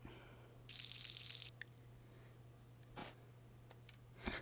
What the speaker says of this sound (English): Most of the time you can water your crops twice.